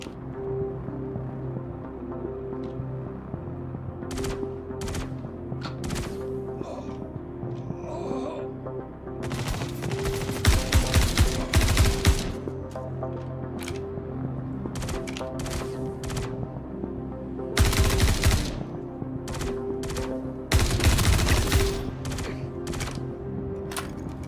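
Gunfire in the video game Star Citizen from a scoped gun with heavy kick: scattered single shots and clusters of rapid bursts over a steady background hum, loudest around the middle and later stretches.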